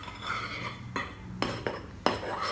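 A utensil mixes gluten-free cozonac batter in a bowl, with continuous stirring and scraping broken by several sharp clinks against the bowl's side, close and fairly loud.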